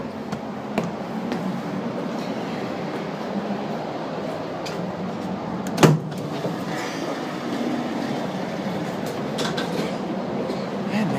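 A passenger train rolls into Bulli station on the Kiama picnic train run, a steady loud rumble of wheels and carriages with a sharp clank partway through.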